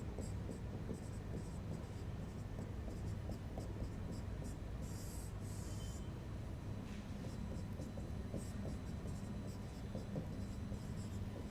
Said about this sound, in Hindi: 1 मिनट मैं यहां पे लिख भी देता हूं पहले